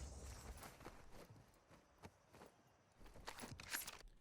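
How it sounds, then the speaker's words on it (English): Enemy footsteps in Call of Duty Warzone during a 2v2 fight, heard as soft, irregular, fairly faint steps over quiet game ambience. "You hear his footsteps a little bit"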